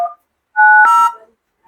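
A mobile phone keypad gives two short dialing tones, the second held longer with a faint click in the middle, clear and close in an otherwise silent moment.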